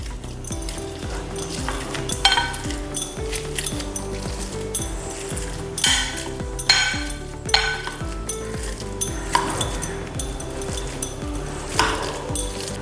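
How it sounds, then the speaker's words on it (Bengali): A spoon mashing boiled peas together in a bowl, repeated clinks and knocks against the dish in a steady working rhythm under background music. "সবগুলোকে আমি একসাথে থেতো করে নিচ্ছি"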